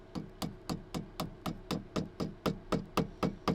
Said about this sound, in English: Once the joint is tapped together, it'll grip itself with just a little bit of glue.